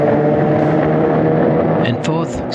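Historic Formula Vee race car engine accelerating hard through the gears at a race start, a loud buzzing drone with harmonic tones climbing, other cars audible nearby and a brief dip as a shift comes late.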